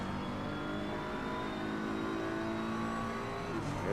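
A Ferrari race car in the Assetto Corsa Competizione racing game at Paul Ricard, engine droning steadily at high revs through turn 1, loud and continuous with a slight rise in pitch near the end.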